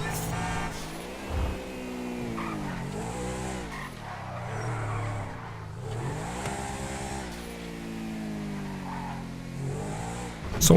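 A car in GTA 5 Online drives through city streets, its engine revving up and down in repeated swells with occasional tire squeal, steady and fairly close, with no speech.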